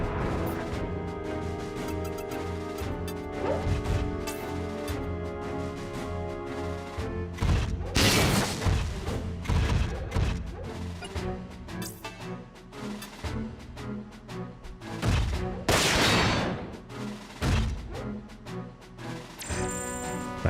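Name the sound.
mech gunfire in video game Front Mission 4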